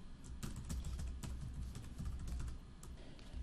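Rapid typing on a computer keyboard while entering personal details into an online form, a steady patter of close key clicks with no talking.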